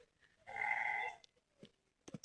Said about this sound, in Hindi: तो बकरियाँ जा रही है, छनो छनो, और मेरी भेड़े उधर है